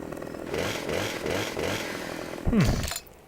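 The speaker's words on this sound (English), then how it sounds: "Oh, chainsaw." A chainsaw in Farming Simulator 25 revs with a buzzing, pulsing engine drone in repeated surges, ending in a louder rising whine before it cuts off.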